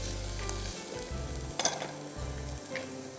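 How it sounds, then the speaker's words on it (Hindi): Chopped onions sautéing in cooking oil in a pan, a steady soft sizzle with occasional stirring scrapes and small pops, close and alone without talk. "ब्राउन नहीं करना है आपने, प्याज को सौते करना है"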